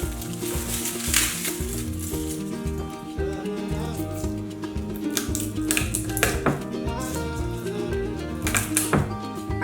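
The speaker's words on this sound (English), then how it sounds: "I'm gonna chop up some garlic because we're gonna put that in the gravy as well" A knife chops garlic on a board for turkey gravy, the quick tapping strikes falling over loud background music.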